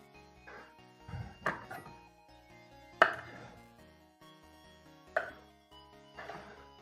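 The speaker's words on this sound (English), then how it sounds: "I am gonna cut it into some smaller pieces just to make things a little bit easier for us" A knife strikes a cutting board as a garlic clove is chopped into smaller pieces in a kitchen, with about six separate sharp chops at an uneven rhythm and quiet stretches between them.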